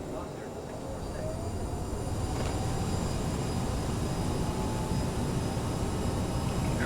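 A CRJ 900 airliner's jet engines roar steadily on takeoff from runway 06 left, a dense broadband rush heard from inside the cabin that builds slightly and holds.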